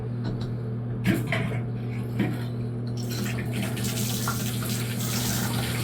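Water runs steadily through a faucet on a service call, the valve leaking at the packing nuts, a constant hiss over a low hum with a couple of clanks from the fixture and the flow growing louder partway through.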